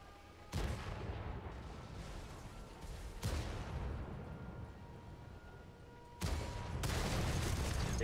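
Gunfire in a competitive Liga Latina esports match, several bursts of rapid shots each starting with a sharp crack and fading, mid-distance and fairly quiet, with no talking over them.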